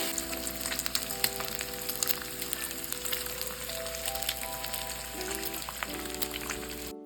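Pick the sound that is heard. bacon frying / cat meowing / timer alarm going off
bacon frying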